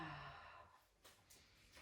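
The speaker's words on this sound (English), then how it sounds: "And maybe a big yawn comes in this moment." A big yawn during a full-body yoga stretch, a long breathy exhale fading out, followed by a few soft breath sounds, close and alone.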